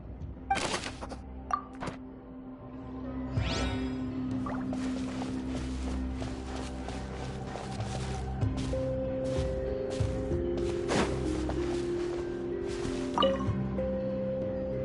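In a video game, water drips into a basin as scattered, irregular plinks and soft wet thunks over a quiet, low background hum, without speech.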